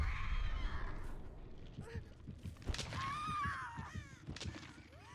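Crows caw in the video game Dead by Daylight, a few sharp calls rising over low in-game rumbles and thuds, with a commentator talking over them.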